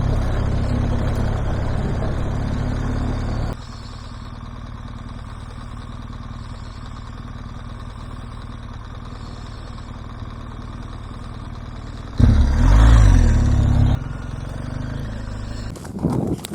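A motorcycle rides through soft bulldust on a dirt track, its mid-pitched engine loud at first, then dropping to a steadier lower drone, with a brief louder burst of revving and clatter near the end.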